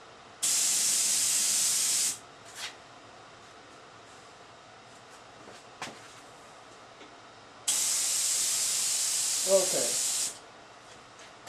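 An HVLP spray gun spraying wood finish on a compressor that is running low on air gives two long, steady, loud hissing bursts separated by a pause with faint clicks, and a brief word is spoken near the end.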